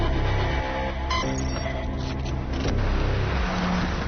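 Car driving on the road, a steady loud engine and road roar running throughout, with a brief shift in tone around the middle.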